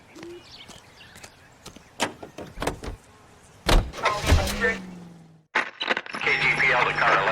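Car in the video game L.A. Noire driving along, with engine hum, door and window clunks, and sharp transient knocks, a voice speaking over parts of it and a louder burst of sound near the end.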